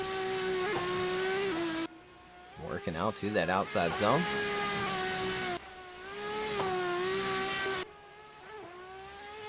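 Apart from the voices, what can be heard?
drift car driving Brno Circuit in qualifying run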